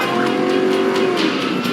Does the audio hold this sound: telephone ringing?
no